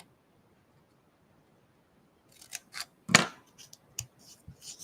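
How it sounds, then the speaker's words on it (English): A few quick snips of scissors cutting a small dovetail notch into scrapbooking paper, close and crisp after a silent start, with one louder cut in the middle. "we're gonna make a little dovetail cut at the end of this one as well"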